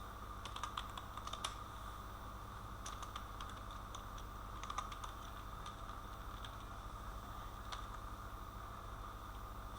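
Keys clatter in short bursts on a computer keyboard while someone types a city name into an HTML table layout, with brief pauses over a steady low hum.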